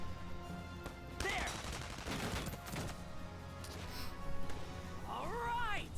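Gunfire in the video game Valkyria Chronicles 4, a burst of shots and impacts mixed with game music and effects, with a voice talking over parts of it.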